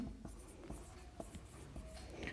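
A pen scratches across paper in short, quiet strokes and taps, close up and steady, as someone works through a written maths solution.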